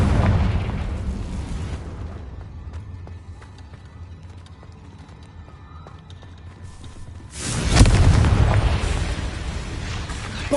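Fire-spell explosions from Confringo in Hogwarts Legacy: a loud burst at the start, a quieter rumbling middle, then a second strong blast around eight seconds that decays into a lingering roar.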